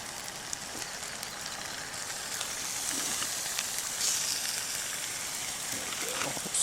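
Bacon sizzling on the sides of a pan over a campsite fire during truck camping, a steady crackling hiss that runs throughout with faint scattered pops and no talk.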